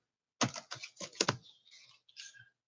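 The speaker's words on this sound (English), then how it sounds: "These cards are so big and hard to shuffle." A deck of oversized playing cards is shuffled in a quick run of crisp riffling clicks, followed by softer flutters and taps as the cards settle, close and fairly quiet.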